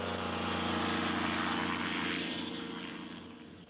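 A 260-pound microlight aircraft accelerating down a makeshift runway in Iceland, its propeller engine a strong buzzing drone that rises in pitch, then gradually fades as it pulls away.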